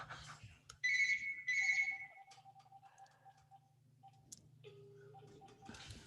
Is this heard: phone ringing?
yes